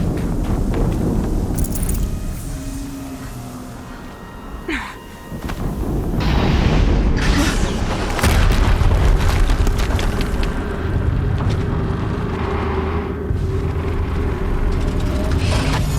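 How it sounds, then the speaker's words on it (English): Heavy explosions in the video game Horizon Zero Dawn swell into a loud, sustained, rumbling roar after a brief dip, with sharp cracks layered over a deep low boom throughout. "Another explosion."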